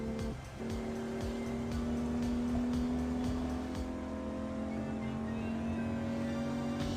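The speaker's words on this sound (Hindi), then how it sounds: "अपनी गाड़ी को फुल स्पीड से भगाते हुए" Car in the video game Grand Criminal Online driven at full speed, a steady loud engine drone holding a high revving pitch throughout, with light road and tire noise and no talking.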